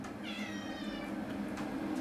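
A cat gives one drawn-out, wavering meow, fairly quiet against a noisy background room.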